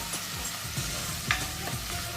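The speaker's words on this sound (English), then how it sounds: "half a tablespoon of garlic paste. Drop it in. Give it a nice stir so it spreads with the oil." Garlic paste sizzles in hot oil in a 28cm Eaziglide Neverstick2 frying pan, and a spoon scrapes through it in a few distinct stirring strokes over a constant close crackle.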